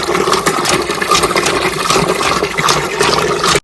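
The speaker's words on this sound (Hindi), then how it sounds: "काफी जबरदस्त पानी इस नलके में से आ रहा है" Water gushes steadily from a newly bored hand pump, a loud continuous splashing rush that cuts off abruptly at the end.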